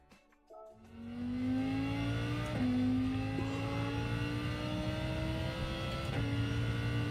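A race car engine in a racing video game on the Red Bull Ring track revs hard and climbs through the gears, a loud, close, steady whine with clear shift drops, heard alone without talk.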